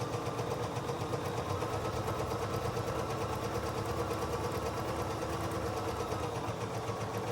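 Home sewing machine stitching fabric pieces of a star quilt block along a line at a shortened stitch length, a steady, even mechanical whirr running throughout without pause, close and moderately loud, no voices.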